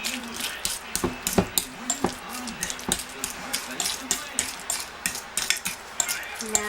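A spoon scrapes and knocks against a bowl while butter is creamed for oatmeal cookies, a fast rhythmic run of rasping strokes and clinks, close and fairly loud.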